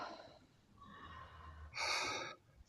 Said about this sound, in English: Open mouth, exhale.